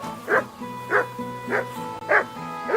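A dog in Kingdom Come Deliverance 2 barks four times at an even, unhurried pace. The barks are moderately loud and close, over a steady, humming game soundtrack.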